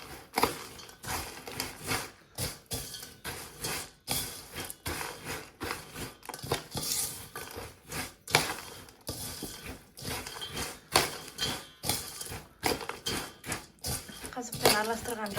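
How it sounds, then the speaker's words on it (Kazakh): A spoon stirs a condensed milk mixture by hand in a bowl, making repeated close clinks and scrapes in an uneven rhythm while a voice talks throughout. "Енді осыны араластырамыз жақсылап."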